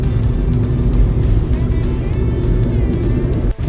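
A car cruises at a steady speed on the Delhi-Mumbai expressway's Kota section, its engine and road noise forming a loud, continuous drone that holds throughout with a brief dip near the end.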